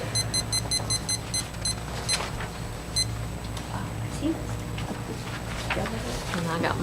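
A small meeting timer beeps in a fast run of short, bright, evenly spaced electronic tones near the start, with two more single beeps a moment later, over the room hum and murmur of a county board meeting.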